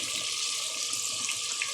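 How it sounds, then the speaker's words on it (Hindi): About a cup of water poured steadily into a cooking pot of potatoes, a continuous rushing splash and gurgle lasting a couple of seconds with no voices. "बस 1 कप के जितना पानी डाल दें"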